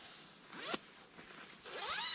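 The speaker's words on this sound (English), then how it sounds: "It's got a zipper on both the top and the bottom, so you can zip your knee out if you want" Sleeping bag zipper pulled in two quick rasping strokes, then a longer drawn-out zip near the end, close and fairly quiet with no talking.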